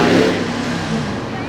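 An exotic car revs its engine on the main street of Myrtle Beach, South Carolina: a loud, low rumbling burst that eases slightly and holds steady through the short moment.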